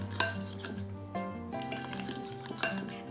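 Salt and pumpkin pie spice stirred into sugar in a bowl, with close, steady clinks and scrapes of a utensil against the dish and a few sharper knocks, no talking.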